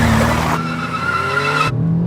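A car is driven fast, its tires skidding with a loud, sustained squeal over the roaring engine, a pitch shifting across the slide before cutting off abruptly near the end.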